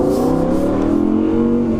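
An Audi R8 V10 Performance accelerates hard along an Alpine road, its engine rising steadily in pitch, loud and continuous from inside or near the car.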